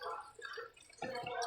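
Chameleon cold brew coffee concentrate poured into a glass, a short close splashing gurgle that pauses briefly and then resumes, fairly quiet.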